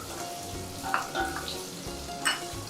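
Tomato drops into simmering sambar, giving a steady close sizzle with soft splashes and a few light stirring taps.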